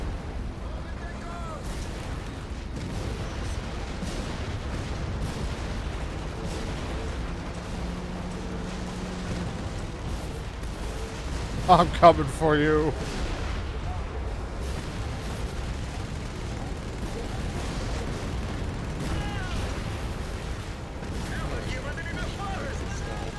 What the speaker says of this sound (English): Everything's blowing up